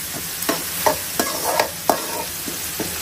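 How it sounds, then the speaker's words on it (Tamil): Onions and tomatoes being sautéed in a pan for an egg curry, with a steady low sizzle under irregular, close spoon scrapes and knocks against the pan, about eight strokes in three seconds, with no voices. "வெங்காயம் தக்காளியை வதக்கிட்டு"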